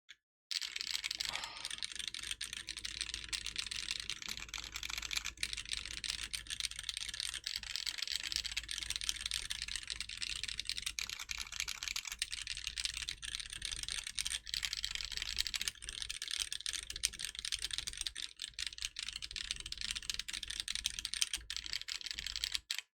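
Steady, close typing on a Kraze65 ISO mechanical keyboard, a dense run of crisp key clacks with no pauses and no speech over it.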